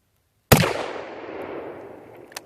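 A single sharp, loud rifle shot from a 1933 Mosin Nagant 91/30 fired outdoors at a hard hat target, with a crack followed by a long decaying echo and a faint later tap.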